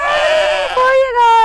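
A goat on a farm in Ontario, Canada, bleats close and loud in a long wavering cry, followed by a second, shorter bleat.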